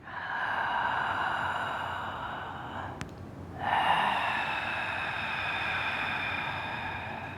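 Ujjayi pranayama breathing through closed teeth: a long, even, ocean-like hiss on the inhale, a brief pause, then a slightly louder breathy exhale, close and steady with no talking.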